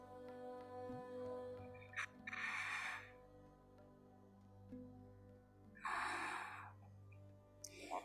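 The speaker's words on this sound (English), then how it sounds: "Let's listen to 3 more breaths." Slow, steady breathing during a hatha yoga pose, with two long, loud breaths a few seconds apart and a shorter one at the end, set against a quiet, humming room.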